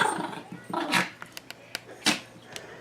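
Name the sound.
two dogs playing and growling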